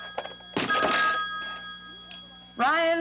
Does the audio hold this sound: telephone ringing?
yes